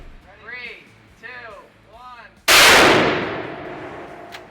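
A single loud rifle shot fires a Nosler ETip 150 grain bullet into a gel block, a sharp blast that rings and decays over about two seconds, preceded by a man counting down.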